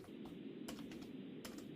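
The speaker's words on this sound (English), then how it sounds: "I'm still working on typing out the prompt here." Someone types a prompt on a computer keyboard, a quiet run of clicking keystrokes with a couple of sharper presses, close up over a low steady hum and no talk.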